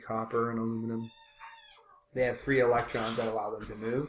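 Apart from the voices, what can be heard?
cat meowing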